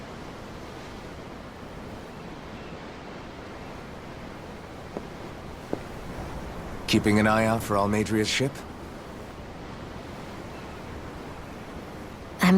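Steady ocean waves lapping against a ship's hull at sea in the video game Tales of Arise, a constant soft wash and hiss with brief wind gusts; a voice speaks over it partway through.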